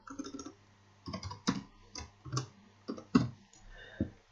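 Typing on a computer keyboard during a Selenium UI automation session, a few short bursts of close, crisp key clicks separated by brief pauses.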